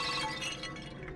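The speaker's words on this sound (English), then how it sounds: "the vase beside you suddenly shatters" A vase bursts apart in a sudden crash of breaking glass and ceramic during a tabletop fantasy game, a short bright shatter followed by a brief scatter of clinking shards.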